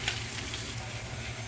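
Chicken pieces frying in a pan for chicken biryani, a steady close sizzle and crackle of hot oil running throughout with no voices over it.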